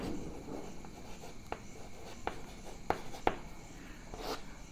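Marker or chalk writing on a board, with soft scratchy strokes and a few sharp taps as numbers are written, quiet and close with no voices.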